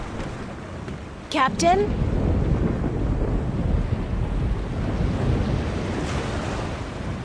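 A stormy sea in the video game The Longest Journey, with steady wind and surging waves rumbling loud throughout and a brief spoken word near the start.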